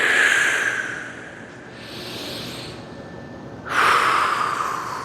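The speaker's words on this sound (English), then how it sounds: "I like to breathe in as I go up" Deep, loud breaths pass in and out of the nose and mouth during a slow stretch: a long airy inhale, a softer pause, then another strong hissing breath close up, with no talking.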